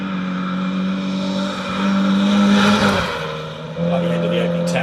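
A historic rally Mini races along a forest stage in Mid Wales, its engine droning steadily and climbing in a hard rev before easing off. Commentary talks over the car the whole time.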